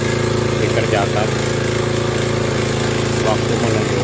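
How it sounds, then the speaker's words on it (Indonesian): A borehole well drilling machine runs at the Al-Furqon Islamic boarding school, a loud, steady mechanical drone with a constant hum, no breaks or pauses across the stretch. "pekerjaan pembuatan sumur bor di Pondok Pesantren Al-Furqon sedang dikerjakan"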